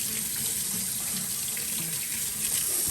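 Water pours steadily from a kitchen or bathroom tap during handwashing, a continuous broadband hiss and splash heard close and loud without pause.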